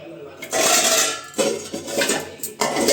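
Dishes, pots and pans clink and clatter during washing, in bursts of metallic and ceramic knocks with splashing, close and loud.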